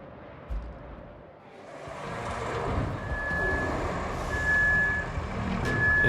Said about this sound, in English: Go ahead and hop in my dump truck here.